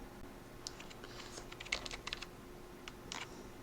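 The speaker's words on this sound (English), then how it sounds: "you can type a letter and press the enter key like this" Keys typed one at a time on a computer keyboard while entering data in a Microsoft Excel 2010 worksheet: scattered close, crisp clicks in irregular bursts, some closely spaced, no talking.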